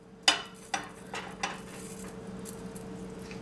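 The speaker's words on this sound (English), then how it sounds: "I typically just crush everything up." Dried cayenne peppers are crushed inside a glass mason jar: a few sharp knocks and crunches near the start, then softer rattling that fades, close and unaccompanied by speech.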